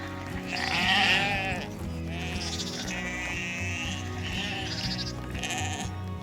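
Sheep and newborn lambs on a farm bleat repeatedly, several overlapping calls rising and falling at close to mid range, with steady barnyard noise underneath and no talk.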